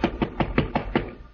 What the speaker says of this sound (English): there is a knock on the door